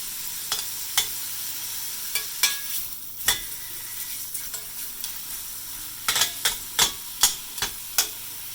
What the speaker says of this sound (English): just searing it, that's all we're doing.